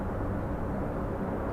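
Steady, broad rumble of helicopters passing overhead one after another above a city near the Hudson, a continuous wash of rotor and engine noise with no talk.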